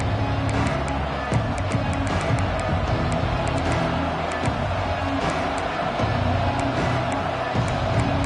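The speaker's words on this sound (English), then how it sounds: "This crowd ready to make its presence known." A football stadium crowd roars with a dense, continuous wash of cheering and whoops, sustained and loud across the whole stretch.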